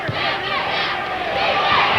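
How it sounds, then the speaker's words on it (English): A basketball crowd at a 1995 high school state championship game roars and cheers on its feet, a loud, sustained wall of voices and shouts that swells slightly toward the end. "that's more than a murmur from the crowd. They're on their feet"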